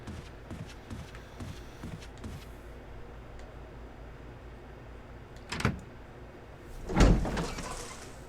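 A door opening in Resident Evil Remastered gives two sharp knocking bursts, the second louder and longer, over a quiet, hollow game ambience with faint soft clicks early on.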